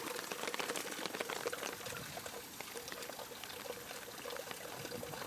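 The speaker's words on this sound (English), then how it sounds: "So tempt fate again I did and washed it while powered on." Water runs and splashes over a powered-on, heavily used camera as it is washed, a continuous close pouring and trickling rush with faint patter and no voices.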